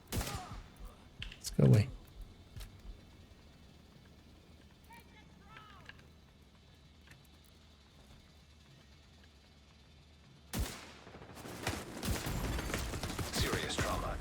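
Video game gunfire rings out as a sharp burst early on and later as sustained rapid firing and impacts, with a player talking over the action.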